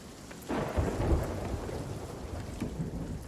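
A thunderstorm at sea in a sailing video game: a deep rumble of thunder rolls in over steady rain, loud and close, then fades into the continuing downpour, with no voices.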